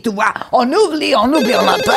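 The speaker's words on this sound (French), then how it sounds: "Attends qu'il y ait mon téléphone qui sonne." A mobile phone ringtone plays a warbling electronic melody close by, heard together with someone speaking French over it.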